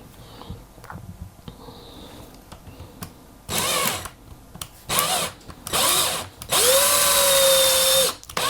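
A power drill drives screws into wood while a bass guitar kit is assembled, several short bursts of whirring that grow longer, with quiet handling noises between them.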